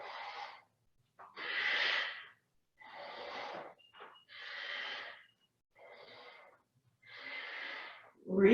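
Slow, deep nasal breaths during a yoga flow, about seven separate airy inhales and exhales, close and clear with silent pauses between them.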